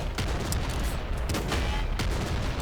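Laser cannon in the top-down shooter Nuclear Throne fires in a dense, continuous barrage of loud crackling blasts with sharp repeated bursts, no talking over it.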